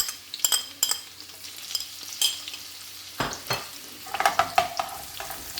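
Chopped garlic fries in a very hot pan for fish curry, a soft sizzle broken by sharp clatters and scrapes as it is stirred. The sizzle grows brighter toward the end.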